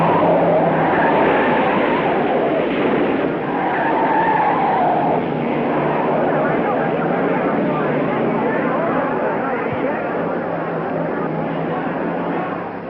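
A race car at the 1959 Indianapolis 500 cuts below the white line in the rough third turn and spins out on the dirt, with loud sustained engine roar and tire noise filling the whole stretch, no pause.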